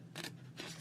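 Scissors snip through handmade paper stamps for an art journal: two crisp, close cuts with a short pause between them, heard alone against a quiet room.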